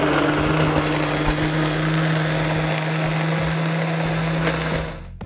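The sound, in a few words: heavy-duty Vitamix blender blending a shake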